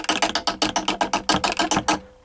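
A 1922 VV-50 phonograph motor with a broken governor spring lets a loose weight strike the housing, giving a fast, loud, even run of about fifteen sharp mechanical whacks up close before it stops abruptly.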